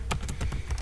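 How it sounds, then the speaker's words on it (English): Quick run of keystrokes on a computer keyboard, about half a dozen light clicks in an uneven rhythm, fairly close and quiet, no voices. "Just type the services name here."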